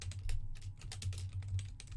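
Fingers type a blog title on a computer keyboard, a quick irregular patter of close, light key clicks over a low steady hum, without talk.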